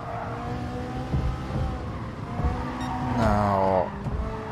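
A Fittipaldi Vision Gran Turismo race car in Gran Turismo Sport drives the Tokyo Expressway, its engine a steady tonal drone that climbs and falls through the gears, with a brief louder rising rev near the end.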